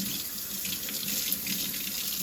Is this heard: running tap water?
yes